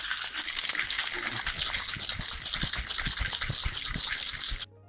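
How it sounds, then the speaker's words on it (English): Mojito ingredients with pebble ice rattling in a cocktail shaker during a quick whip shake, a rapid, close, loud gritty rhythm of ice strikes lasting several seconds before cutting off abruptly. "Give it a whip shake."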